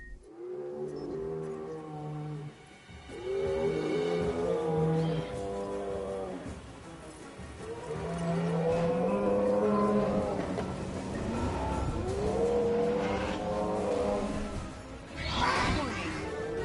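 Large creatures bellow and groan during a dinosaur attack on a ranger vehicle in Jurassic World Evolution, with long, deep, moaning calls repeating over about sixteen seconds, loud and close, with no talking.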